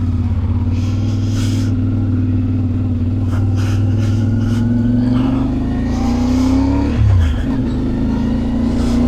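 A 2024 CFMoto 450MT adventure motorcycle runs steadily close by, its engine note climbing gradually as it gets under way, then dipping sharply with a gear change before settling again, with no talk over it.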